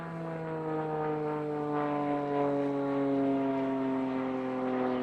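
Unlimited-category aerobatic propeller aircraft performing a safety maneuver at a national aerobatic contest, a steady droning engine hum with strong harmonic tone held throughout, moderately distant and without talk.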